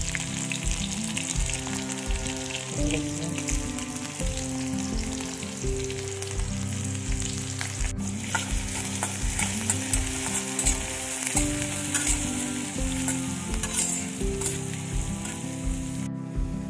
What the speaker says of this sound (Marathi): आता जिरे, मोहरी, मिरची टाकून शेतीची भाजी बनवणार आहे.